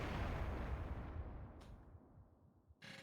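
A big Dragon Ball Z style explosion in a Master Detective Archives video game cutscene, a heavy rumbling boom that decays over a couple of seconds, followed by brief bursts of debris noise.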